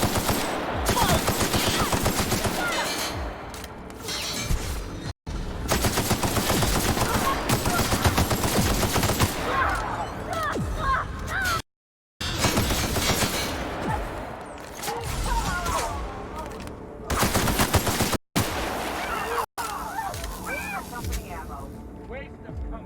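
Heavy gunfire in a firefight in The Outer Worlds, with dense automatic bursts and scattered shots filling most of the stretch, broken by brief silences, loud and close, with voices speaking over parts of it.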